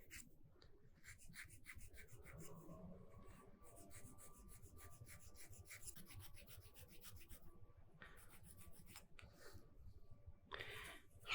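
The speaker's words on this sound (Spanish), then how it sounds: "El interior lo voy a limar con una pequeña lima diamantada." A small diamond file rasps inside an alabaster five-pointed star, producing quick, fine, repeated scraping strokes that stay close and faint, with brief pauses between runs.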